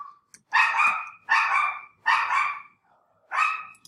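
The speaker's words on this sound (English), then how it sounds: "They are small and they're barkers" Small dogs bark in four sharp, evenly spaced yaps, close and fairly loud, with a faint whine before the first.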